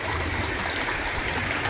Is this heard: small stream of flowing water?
yes